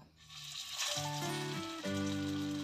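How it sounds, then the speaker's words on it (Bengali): Shami kababs shallow frying in hot oil in a frying pan, a steady close sizzle that grows louder partway through as more kababs go in, heard alone without talk. "তেলটা গরম হয়ে গেলে এক এক করে কাবাবগুলো দিয়ে দেব।"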